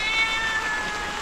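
A common house cat gives one drawn-out, high meow that slowly falls in pitch. It sits against a constant hiss of background noise, with no voices.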